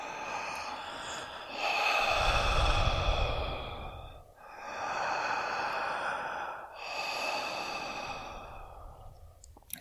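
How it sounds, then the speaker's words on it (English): Three slow, deep breaths taken in and out through an open mouth, each a long breathy rush of air with brief pauses between them, close to the listener and with no talking. "as soon as I breathed all the way in, I just started breathing all the way back out when I reached the top"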